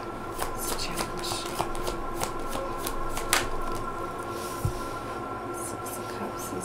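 Tarot cards being handled and shuffled in soft, steady riffling and shuffling, with light taps and clicks scattered through a continuous low background hum.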